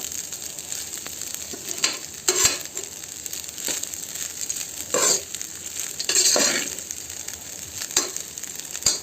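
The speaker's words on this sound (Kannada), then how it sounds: "ಕರಿಬೇವು ಹಾಕಿ ಒಗ್ಗರಣೆ ಮಾಡ್ಕೊಂಡು ಅದಕ್ಕೆ ಪುಳಿಯೋಗರೆ ಪುಡಿ ಹಾಕಿ ಮಿಕ್ಸ್ ಮಾಡ್ಕೊತಾ ಇದ್ದೀನಿ" A spoon stirs and scrapes through a sizzling curry leaf tempering mixed with puliyogare powder in a hot pan, giving steady crackling frying under irregular scraping strokes, close and with no talk.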